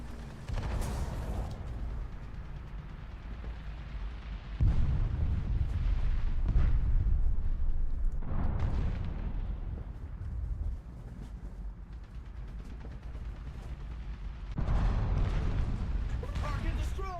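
Barrage fire from a tank in a video game, heard as heavy booming salvos that come in deep rumbling waves and then fade away, with bursts of excited talking over the top.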